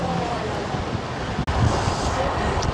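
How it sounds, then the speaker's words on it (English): Steady wind buffeting a microphone while cycling on a ride in Majorca, a loud continuous rumbling roar with one brief dropout midway. "That wind is still up."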